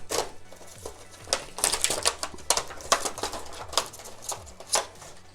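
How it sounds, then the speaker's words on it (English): A cardboard box for a 1989 Joker action figure from Mattel's DC Multiverse line being torn open by hand, with quick bursts of close rips and crinkles in an irregular rhythm. "I can just rip these to shreds"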